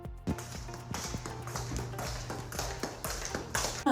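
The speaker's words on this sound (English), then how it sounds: "Now, I do not hate the fact that you're dragging your feet on the floor." Shoes dragging and scuffing across a floor, a run of repeated broadband scrapes and taps in an uneven shuffling rhythm, close and fairly loud, with a steady low hum beneath.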